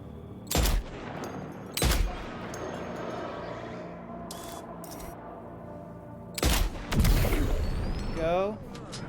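Gunfire in the video game Death Stranding 2, several sharp, loud single shots spaced seconds apart, one quick pair near the end, with a voice talking between them.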